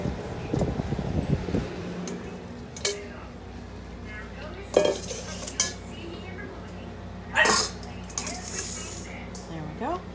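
Strainer and bowl being set up in a home kitchen while making chicken stock for pressure canning: scattered metallic clinks and knocks over a steady fan hum, with a voice talking briefly at the start.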